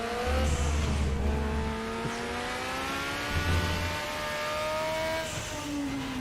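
Race car lapping TT Circuit Assen in RaceRoom Racing Experience, engine screaming up through the revs with pitch sweeps and downshift dips, brief low rumbles and a light tyre scrub, loud and continuous with no talk.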